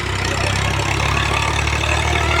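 Massey Ferguson and Swaraj tractors labour in a muddy field, their engines giving a loud, steady, low rumbling drone without pause.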